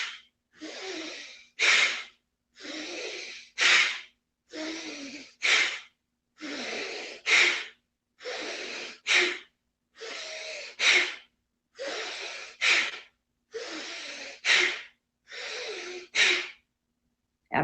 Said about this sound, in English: inhale through the nose, exhale through the nose